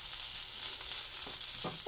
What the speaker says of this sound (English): So that's one of the reasons I like heating it up on the frying pan like this.